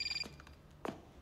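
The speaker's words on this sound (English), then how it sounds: "Eli, mute your fucking phone." A phone rings during a Saints Row 5 gameplay session, a short bright electronic tone at the start and then a brief sharp clatter, heard alone with no talk.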